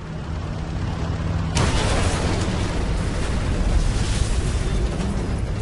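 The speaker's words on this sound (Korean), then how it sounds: "The concussion from the explosion knocked the entire formation all over the sky" A wartime explosion that shook an aircraft formation in the sky: a low rumbling blast kicks in sharply and keeps roaring as dense, sustained noise, with a steady tone underneath before it.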